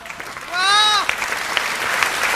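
An audience at a Hindi poetry recital applauds with a crackle of clapping, while a voice rises briefly over the start and the applause carries on more faintly.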